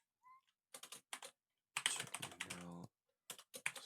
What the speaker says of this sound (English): My big club fingers are hitting all the keys